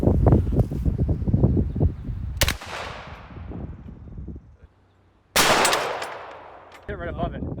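Gunshots fired at an aluminum floor guard outdoors: a burst of sharp, loud shots at the start, then two more single loud cracks with ringing decay, separated by quieter rustling and a near-silent gap.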